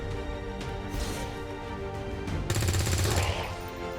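Gunfire in the video game Long War 2, heard as a burst of rapid automatic shots with a sharp, louder volley near the end over a layered game soundtrack, close and dense.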